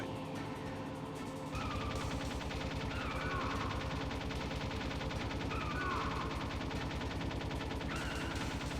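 Rapid bursts of gunfire from the Metal Gear Solid video game on PC, a dense continuous stream of shots starting about a second and a half in and running steadily to the end over a background game score.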